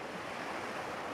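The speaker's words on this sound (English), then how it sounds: "hypnotizing, enticing waves washing on the sand" Waves wash onto the sand at a beach, a steady unbroken roar of surf with some wind hiss and no speech.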